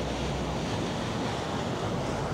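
Waves from a passing ferry's wake wash and rush nonstop in broadband surf noise, with wind buffeting the microphone.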